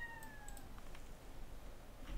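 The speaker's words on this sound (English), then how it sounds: "sorry, my cat is meowing." A house cat meows faintly in a quiet room, a drawn-out call at the start followed by a few softer, brief sounds, with no one talking.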